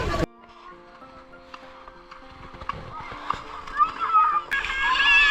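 Beachgoers bathing in the sea at Mousuni Island, with scattered splashes and sloshing water under a steady background of crowd chatter and children's voices, growing busier and louder toward the end.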